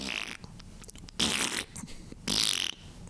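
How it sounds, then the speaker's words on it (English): A fart sound effect plays as two loud, noisy, raspy blasts, each lasting about half a second, over a busy background. "And they say ladies never fart"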